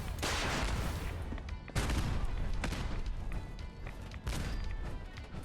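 Gunfire from turrets and enemies in Fallout 4, a dense, loud barrage of rapid shots with sharp peaks every second or so, continuous throughout and without talk.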